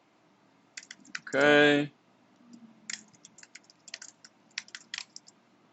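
Typing on a computer keyboard as a name is entered into an online form: bursts of quick, close clicking keystrokes spread across the clip, with a brief spoken word near the start.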